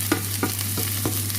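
Chili dropped into a frying pan with a steady close sizzle, several soft stirring taps over a low constant hum.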